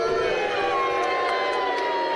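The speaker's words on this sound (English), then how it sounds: "The crowd here beginning to come unglued at this supercard" A crowd at an FWA Academy wrestling supercard roars continuously, with scattered whoops and shouts rising from the noise and a voice faintly underneath.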